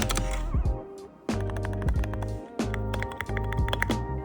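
Keys being typed on a new Wooting keyboard, a run of crisp, close clicks in uneven bursts, with a tonal background running underneath.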